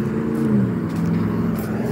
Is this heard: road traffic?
yes